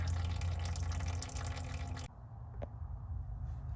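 Engine oil draining out of a 2017-2023 GM Duramax L5P oil pan, a loud steady rushing pour that suddenly drops to quieter trickling with a single drip.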